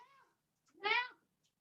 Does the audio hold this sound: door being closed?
no